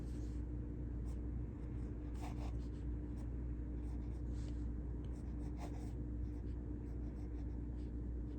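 A pen writes cursive on paper with a soft continuous scratch broken by quicker strokes. It sits close over a low steady background hum, and there is no talk.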